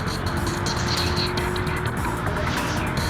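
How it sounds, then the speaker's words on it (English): Naturally aspirated supercar engine roaring during a race, a loud sustained drone with a steady tone, tyre noise and chatter mixed in, with brief dips and surges through the run. "Behold what a supercar does with its natural engine."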